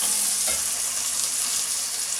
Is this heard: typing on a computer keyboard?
no